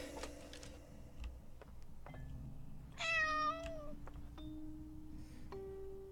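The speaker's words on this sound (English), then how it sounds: "I just love the little kitty family." Cats meowing inside the video game Layers of Fear, a short run of several quick, high, rising meows in the middle, with a steady low ambient hum and scattered soft tones around them.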